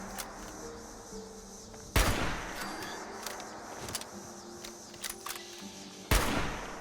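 Fallout 76 gunfire: two loud, sharp shots about four seconds apart, set against quieter ambient game noise and faint mechanical clicks.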